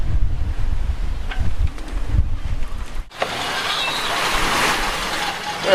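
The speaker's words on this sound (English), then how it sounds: "it's more wind than we predicted and that we want, but we're sailing" Strong wind roars across a sailboat at sea, a steady broadband rush that swells and buffets the microphone, loud and continuous throughout.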